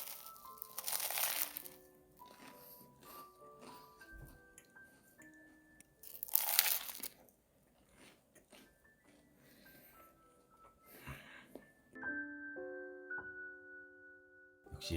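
Someone bites into and chews a banana peanut butter sandwich, with a few crunchy bites and soft mouth sounds between quiet pauses, alongside background music.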